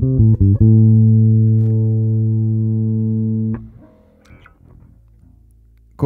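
A Fender Flea Bass short-scale electric bass with its single pickup and the tone control turned fully down, a few plucked attacks then a long sustained dark, rounded note that fades, followed by quiet fret and string handling noise.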